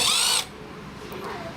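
A cordless power drill with a hex shank bit whirs loudly for a brief burst then cuts off, leaving a faint fading wind-down.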